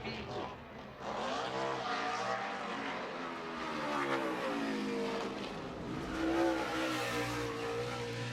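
A NASCAR Sprint Cup stock car at Sonoma road course during 2010 qualifying, engine roaring wide open through a corner and accelerating, its pitch sliding up and down steadily for several seconds, fairly distant, with faint commentary underneath.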